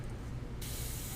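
An airbrush spraying paint gives a steady airy hiss that jumps brighter and stronger partway through as the trigger opens further, continuous and close.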